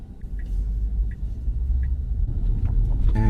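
Tesla Model Y Long Range cruising with a boat trailer hitched behind, a steady low road rumble filling the cabin, with a few faint high chirps and a brighter rattle toward the end.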